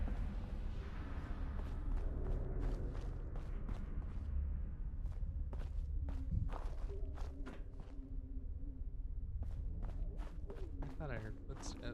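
Footsteps in the video game Fallout London: a steady series of quick, light steps tapping over a constant background bed, alongside talking.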